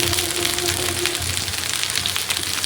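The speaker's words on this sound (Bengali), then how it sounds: "তেলটা গরম হয়ে গেছে, বেগুনগুলো দিয়ে দিলাম ভর্তার জন্য" Eggplant pieces for bharta dropped into hot oil, producing a loud, continuous, close sizzle with a dense crackling spatter.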